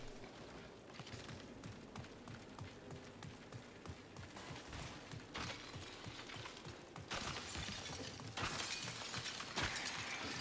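Glass shattering amid gunfire and action in the sci-fi shooter game Marathon, with dense bursts of breaking and clattering impacts that build louder toward the end over busy game noise.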